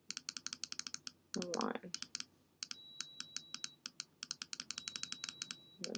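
Rapid computer keyboard typing and mouse clicks while working in Adobe Photoshop, dense rhythmic clatter of keys close up, briefly interrupted by a short spoken phrase.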